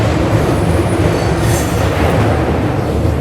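Passenger train on the Bangalore to Shirdi route heard from on board, a loud, steady rumble of wheels and carriage with a brief metallic squeal midway, no voices.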